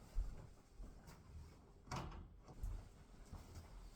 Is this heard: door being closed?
yes